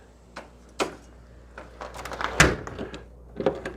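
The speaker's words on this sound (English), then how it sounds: "Now, let's close the door" A car door swings shut on a vehicle fitted with a Comet CTC-50M window jumper cable, heard as a few soft clicks and rattles building to one solid thunk, followed by lighter handling noises.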